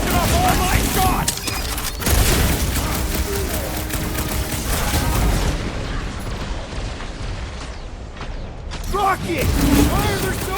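Gunfire rattles through a Guardians of the Galaxy video game battle, rapid loud bursts of shots and mechanical clatter over a busy combat din, with characters' voices talking over it and a brief lull before the shooting resumes.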